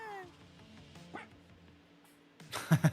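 A dog in the racing game Screamer gives a quick run of three or four yappy barks near the end, loud and close, after a stretch of quiet game music and ambience.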